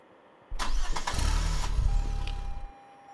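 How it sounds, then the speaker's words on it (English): Toyota Sienna minivan engine cranking and catching, a sudden loud start followed by a rough rumbling idle for about two seconds before it fades, close by with no talking. "Close the gas cap, then start the car."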